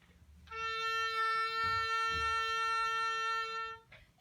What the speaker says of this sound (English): an oboe that plays the note A